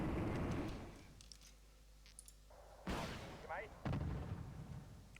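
Tank guns firing in the Wargame Red Dragon strategy game: a few sharp, heavy cannon reports with rumbling tails, spaced irregularly over a low battle din with faint clicks.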